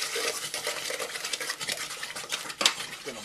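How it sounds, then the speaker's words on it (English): San Marzano tomato puree goes into a hot pan of browned garlic, giving a busy wet scraping and stirring against the pan with a sharp utensil clink near the end. "Next up is we're going to add our San Marzano tomato puree."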